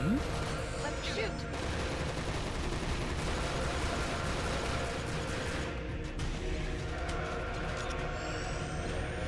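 Sustained gunfire in The 3rd Birthday, a steady dense barrage of rapid shots with a constant rumbling bed beneath, loud and continuous with no breaks.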